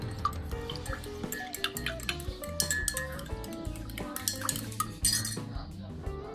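Lime juice trickles into an iced orange-juice americano coffee, bright clinks and drips of liquid against a glass with light tapping and stirring clatter, close and fairly quiet, no voices.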